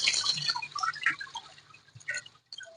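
Water trickles and drips as washed ragi grains are strained, with soft splashes and dribbles close by, busier at first and thinning toward the end.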